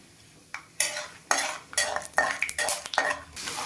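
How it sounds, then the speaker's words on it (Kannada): A spoon stirs peanuts in a metal pan, clattering and scraping in repeated sharp strokes with a soft sizzle underneath, close and with no talking. "ಸ್ವಲ್ಪ ಶೇಂಗಾ ಬೀಜ ಹಾಕ್ತಾ ಇದ್ದೀನಿ, ಒಂದು 2 ಸ್ಪೂನ್ ಅಷ್ಟು."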